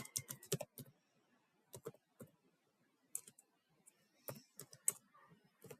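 Irregular bursts of keystrokes on a computer keyboard, close and clear, with short pauses between quick clusters of clicks and no talking.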